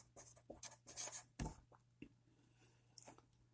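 Pen strokes scratch briefly on paper while a number is written by hand, quick bursts of close rubbing followed by a few lighter taps and pauses.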